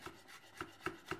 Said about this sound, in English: So just chop that up.